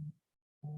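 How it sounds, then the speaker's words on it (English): A mobile phone buzzing nearby, two short low droning pulses with a brief silent gap between them. "my phone is buzzing and I'm trying to ignore it"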